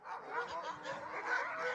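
Dogs barking and yipping in a short, faint burst, somewhat distant and muffled, with no speech over them.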